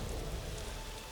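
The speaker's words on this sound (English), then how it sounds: "Thunderstorm." A thunderstorm in the Shadowgate video game: dense, steady rain hissing throughout with a low rumbling thunder underneath, continuous and enveloping with no voices.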